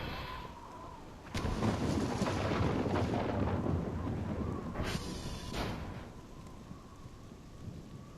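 Lightning strike thunder during a rainstorm in the Voices of the Void video game: a loud rumbling crack breaks out over steady rain and lasts several seconds, then a second burst follows before it fades back to rain.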